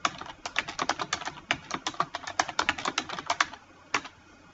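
Quick, crisp keystrokes on a computer keyboard while entering a spreadsheet title in Excel, a rapid irregular run of close clicks that stops, then one last tap.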